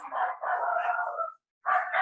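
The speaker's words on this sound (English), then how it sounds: "my dogs are going nuts" Several excited pet dogs barking and howling indoors behind barn doors, two long drawn-out bays with a short pause between, loud and close.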